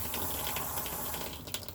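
Water running from a faucet inside a 2015 Rockwood camper, a steady close rushing flow with no one speaking.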